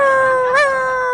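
A voice, imitating a dog, gives a loud, sustained howl close to the microphone, a single steady tone that swells briefly in the middle and then holds.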